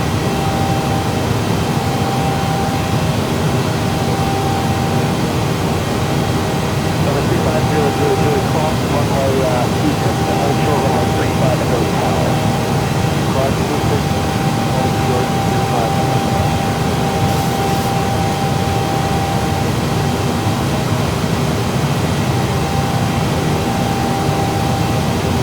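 An airliner climbing out after takeoff in Microsoft Flight Simulator, a steady loud engine roar and cabin hum sustained throughout, with a voice talking over it.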